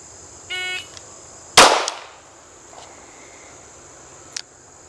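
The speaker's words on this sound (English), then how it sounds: "I'm going to be shooting this with the mechanical sights" A single sharp DA/SA pistol shot fired with mechanical sights during a defensive shooting drill, a loud crack with a quick decaying tail, followed by faint ticks and a short beep.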